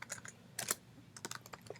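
Short bursts of typing on a computer keyboard as a terminal command is entered, several clustered key clicks with brief pauses, close and fairly quiet.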